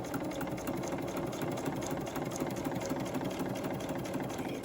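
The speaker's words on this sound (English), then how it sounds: "And then I sewed around it one time" A sewing machine stitches around a journal page with a steady, fast mechanical whirring and rapid needle clatter, running continuously at moderate volume from start to finish with no talk.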